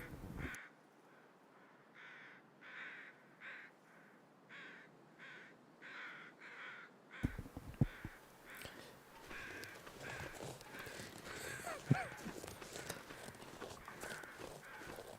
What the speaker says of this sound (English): the crows like that indicate there's a deer carcass over there